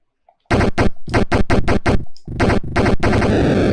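Rapid bursts of retro Atari 2600 gunfire from enemy spiders shooting at the player, a loud run of sharp electronic shots in quick irregular succession with no talk.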